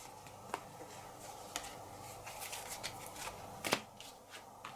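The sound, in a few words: playing a card onto the table in a board game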